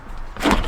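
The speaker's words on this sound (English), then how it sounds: "and the latch works properly" The latch on a Toro 60 V FlexForce leaf blower snaps shut in one short, fairly loud click-clack, heard alone with no talking.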